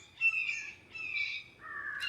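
Several birds caw and squawk in an outdoor scuffle with a hawk nearby, three harsh drawn-out calls in a row against a quiet background.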